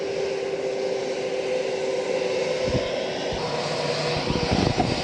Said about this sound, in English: We're on the tarmac right now, and the plane just landed